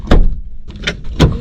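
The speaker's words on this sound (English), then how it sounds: "My back door won't open." The back door of a van sticks and thuds three times in quick succession, heavy, close and loud, each thump dull and short.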